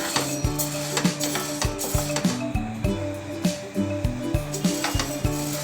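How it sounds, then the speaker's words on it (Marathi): Wheat and rice roasting in a kadhai over a high flame, with a ladle scraping and clinking against the metal pan in a steady, continuous stirring rhythm close by, over a faint sizzle. "you are roasting on high flame and roasting continuously and stirring continuously"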